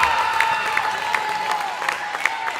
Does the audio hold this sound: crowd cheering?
yes